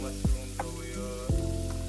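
Mushrooms frying in a pan over a low flame for a creamy white sauce pasta: a steady close sizzle, broken by two heavier low knocks of stirring.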